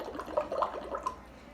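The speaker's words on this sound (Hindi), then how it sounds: "तो जब हम फूंक मारेंगे आप देखेंगे कि इसमें बबल्स आएंगे" Breath blown through a straw into a half-full glass of water, producing soft, irregular bubbling gurgles in short bursts, quiet and close.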